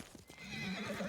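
A horse in the video game Ghost of Tsushima whinnies briefly and faintly, with a few soft hoof clops mixed in, heard on its own.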